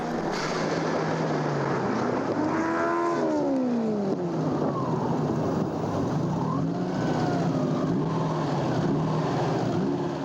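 A tiny rally car races flat out on a Targa NZ tarmac stage, its engine loud and close as it revs up and down through the gears while it passes, and the roar holds steady throughout.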